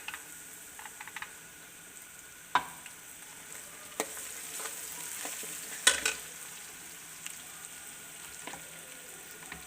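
Ginger and garlic frying and being stirred in a pan while a soup for sick children is cooked, with a steady soft sizzle broken by a few sharp clicks of the spoon against the pan; no one speaks.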